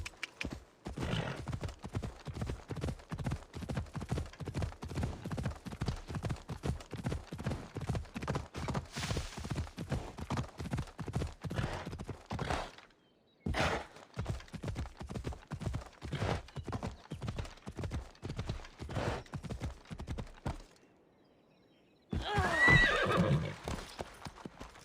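Phobos the horse gallops in Assassin's Creed Odyssey, hooves clip-clopping in a fast, even rhythm that runs long, pauses briefly, resumes, then drops out before a short burst of other noise near the end.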